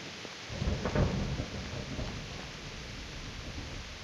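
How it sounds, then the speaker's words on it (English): A heavy thunderstorm in the game Kingdom Come: Deliverance: a steady wash of rain with a deep rumble of thunder rolling up early, then easing back into a constant dense roar. "That was just a hell of a storm."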